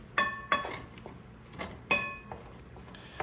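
Spoon clinking and scraping against a pot while pasta sauce from a jar is stirred in, a few sharp metallic taps spaced apart with softer scraping between, close and moderately loud.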